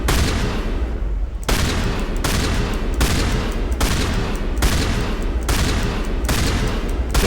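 A shotgun fires repeatedly in Mass Effect 1, seven or eight loud, sharp blasts in an even rhythm at roughly one-second intervals, each one cutting off the last.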